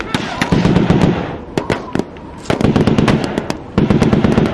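A recoilless RCL gun fires at a Pakistani tank in a battle, with sharp repeated bangs and crackling bursts over loud rumbling; a voice is heard briefly amid the din.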